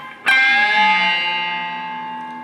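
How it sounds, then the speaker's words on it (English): A single distorted electric guitar note is plucked on the B string, then bent up a whole step and left ringing, slowly fading with an effects-laden sustain. "Keep our pinky down and we bend up a whole step on the B string."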